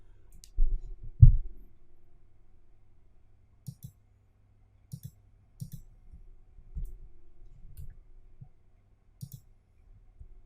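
Computer mouse clicks while generating a new password in a web app: sparse, sharp single and double clicks spaced a second or two apart in a quiet room, with a couple of soft thumps early on.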